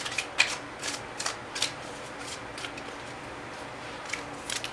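Tarot cards being shuffled, producing repeated soft riffling bursts at an uneven pace, fairly close and quiet, with no talking.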